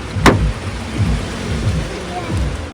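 Car door opened for a family outing at night: a sharp latch click near the start, then low rumbling handling noise with voices talking nearby.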